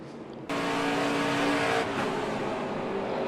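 Onboard a NASCAR Truck Series race truck at speed, a loud sustained engine roar with a sharp tonal whine breaks in abruptly around the moment of contact with another truck's rear, then slightly eases.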